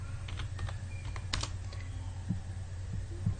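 Computer keyboard keys tapped in a short burst of typing, a handful of close, light clicks over a steady low hum with no talking.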